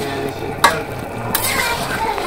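Village-style chicken curry bubbling in a pot while it is stirred, with a steady sizzle, a sharp scrape of the spoon against the pot, and another brush of stirring later on, loud and close.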